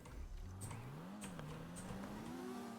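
A JDM car in GTA Online revving up, its engine note climbing steadily and smoothly over a couple of seconds, moderately loud with a faint hiss of background noise.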